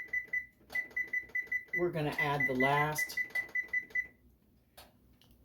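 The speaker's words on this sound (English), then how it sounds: "I'm going to set my timer for 30 minutes." A kitchen timer being set for a stew, giving a run of short, evenly spaced electronic beeps that pause while someone speaks, then resume and stop.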